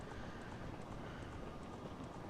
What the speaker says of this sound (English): here's Ganondorf on his dark horse